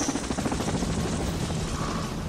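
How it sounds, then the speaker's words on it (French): A broad, steady rotor-like roar from an aircraft arriving, loud and continuous throughout with no talk. "L'avion est venu me chercher."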